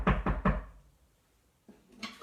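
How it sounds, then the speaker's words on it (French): Three quick, heavy knocks on a wooden door as the wolf arrives at Nouf Nouf's house, fairly close and loud, followed by quiet and then a brief soft voice. "Le méchant loup alla cogner à la porte de Nouf Nouf."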